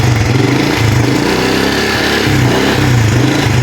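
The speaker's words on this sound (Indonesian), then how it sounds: "jadi motornya hidup ya" A Honda Blade 125 fuel-injected motorcycle runs after a kick start, its engine idling steadily and close by with a pulsing, slightly uneven rhythm and no talk over it.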